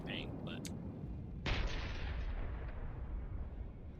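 An artillery shell fires in a video game with a single sharp, distant boom, followed by a lingering low rumble under quiet background noise, after a few faint higher blips.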